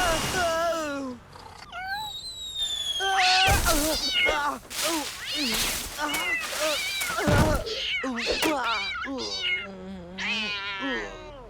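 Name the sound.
cat meowing in a cartoon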